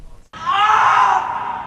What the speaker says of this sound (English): the cries of pain are coming from an actor playing part in a simulated fatal